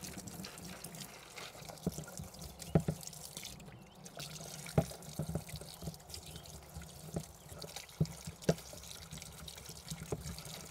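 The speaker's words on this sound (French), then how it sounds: "je vais venir mettre de l'eau comme ça dans le fond" Water runs and trickles into an outdoor sink as cucumber and tomato seeds are washed, a soft continuous flow with scattered drips and light splashes, fairly quiet and without voices.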